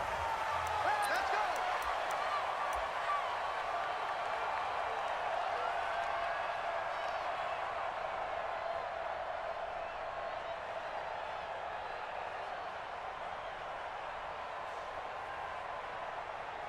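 Stadium crowd in Madden NFL 20 before a Baltimore Ravens versus Jacksonville Jaguars matchup, a steady wash of distant crowd noise that holds level throughout and eases slightly later, with no talk over it.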